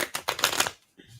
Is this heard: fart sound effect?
no